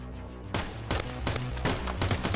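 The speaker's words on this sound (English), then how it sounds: "I lay down suppressing fire, silencing him for a moment, but I was hit badly" Dense, loud gunfire in Escape from Tarkov, several overlapping bursts of rapid shots crackling in close succession with no pause.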